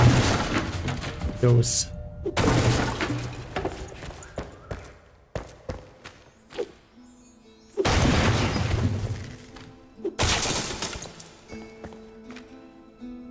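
Axe smashing and breaking objects in a video game, with repeated loud crashing, shattering impacts in bursts amid game sounds, and a person talking over it.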